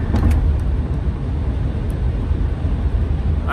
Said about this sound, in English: So I'm driving to the hospital just about as fast as I've ever driven.